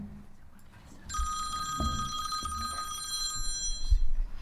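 A cell phone rings during a council committee meeting, a steady electronic tone with a bright, sustained pitch running for several seconds at moderate loudness over faint room noise and a few soft bumps.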